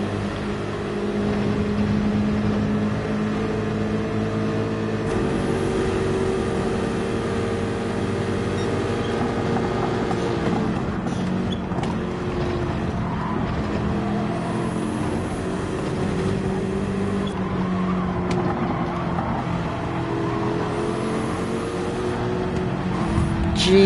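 Race car engine in Gran Turismo 7 droning steadily at high revs, with pitch rising and falling through gear changes and braking into corners, loud and continuous throughout.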